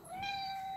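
A single drawn-out meow from a house cat, close and clear, rising slightly and then holding steady before fading, with no talking over it.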